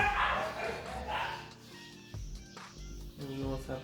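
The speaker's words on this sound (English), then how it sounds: "You know what's happening with the dog." A dog at a home in Africa gives a few yips and barks mixed with whimpering, mid-distance and moderately loud, while a person talks over part of it.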